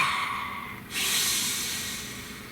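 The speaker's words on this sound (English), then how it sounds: "Please take a nice deep breath." A single slow, deep breath taken close to the microphone: a soft airy inhale that swells into a louder hissing exhale and then fades gently away.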